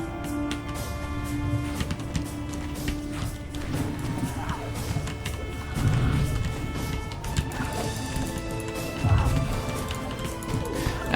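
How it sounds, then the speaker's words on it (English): Garbage being smashed in the Dungeons and Dragons Online video game, with several heavy crashing impacts over a dense, continuous bed of game music and ambience. "As always, I'm smashing some garbage along the way."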